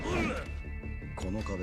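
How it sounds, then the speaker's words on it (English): A giant hammer smashes against a light in the Yakuza 6 video game, a sharp crash and whack heard amid game sounds and a talking voice, with a second impact burst near the end. "My hammer broke on a light."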